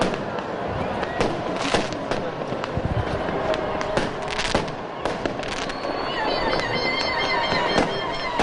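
Fireworks at a festive public celebration in Algiers, with a dense, continuous crackle of sharp pops and bangs, loud and close, over a busy crowd murmur.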